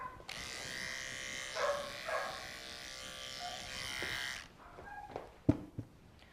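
Electric clippers shaving an Australian Shepherd, a steady close buzz for about four seconds that then cuts off, leaving a few brief handling knocks.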